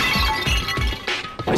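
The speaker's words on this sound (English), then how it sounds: "I grabbed the Monokuma bottle from the shelf and smashed it across her." A Monokuma bottle smashed across someone in the Danganronpa video game, with loud shattering bursts of breaking glass and clinking fragments.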